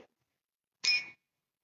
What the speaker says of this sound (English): So I'm going to use my little chimes.